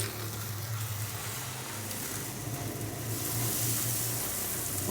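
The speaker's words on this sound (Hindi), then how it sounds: "ये देखें बहुत ही शानदार जो पराठा है वो फ्राई हो रहा है" An onion paratha fries in butter on a hot griddle, giving a steady, close, continuous sizzle that grows slightly brighter toward the end, with no talking.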